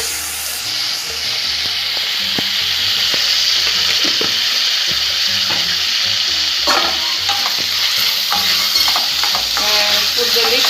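Tomatoes frying in a pan and being stirred, a loud steady sizzle close up with scraping and clinking of the spoon against the pan throughout.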